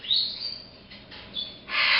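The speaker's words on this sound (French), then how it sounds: "On a le plus beau des petits oiseaux." Pet bird Charlie chirps in bright, high, close calls, a few short tweets early on, then a louder burst near the end, with quiet room noise and no talking in between.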